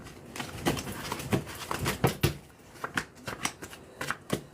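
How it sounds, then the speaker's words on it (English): Tarot cards being shuffled by hand, a run of crisp riffling flutters and soft slaps in quick uneven bursts, close and fairly quiet, with no talking. "I'm just gonna give this another shuffle."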